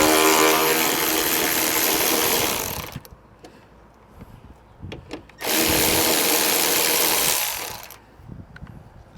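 A power tool works a bolt loose on a 2010 Chrysler Sebring with a 2.4-litre engine, two loud sustained bursts of whirring impact-gun noise about three seconds each, separated by quieter clanks and handling sounds.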